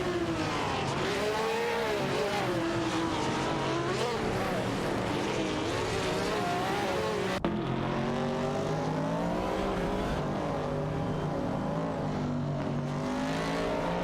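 Race cars in a racing video game, a McLaren and Nissan R382 cars, drone steadily with layered engine tones that rise and fall, sustained and loud throughout with a brief break mid-way, no voices.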